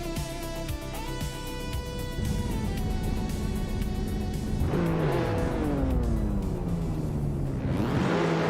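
Race cars surge off the line at a dirt speedway start in a racing game, engines revving hard and climbing in pitch as gears change, a loud, dense roar of several cars with rising whines.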